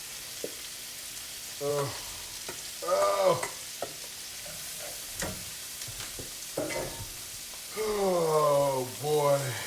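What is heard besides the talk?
corn sauteing in bacon fat with red onion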